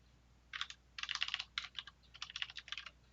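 Bursts of computer keyboard typing, quick irregular clatters of keys close by, starting after a brief quiet pause and continuing in uneven runs with short gaps.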